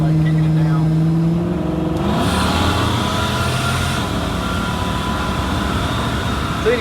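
A car being kicked down from a roll with a responsive N412 camshaft, engine note climbing loud and close as it pulls hard, with a steady droning tone before the surge and continuous roar after.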